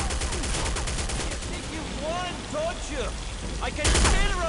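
Sustained bursts of M60 machine-gun fire in Counter-Strike, a rapid stream of loud shots with whizzing ricochets and a heavier final volley.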